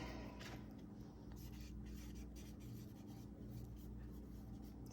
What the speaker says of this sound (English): We're gonna write that on this pot